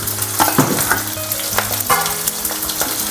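Onions frying with green chillies and curry leaves in an oiled pan, a steady loud sizzle broken by the scrape and clatter of stirring, no voices.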